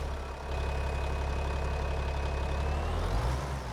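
A tractor engine idling in Farming Simulator 25, a steady low, heavy rumble with a continuous hum, holding even and fairly loud throughout.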